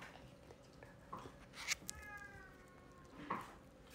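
A pet cat gives several faint meows and short chirps in a quiet indoor room, with a few soft clicks in the background.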